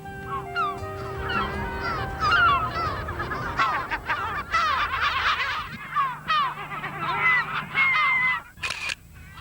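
Gulls on a wild sea cliff on the coast, calling loudly and repeatedly with harsh, laughing cries that overlap in a noisy colony chorus, continuing throughout with the wind.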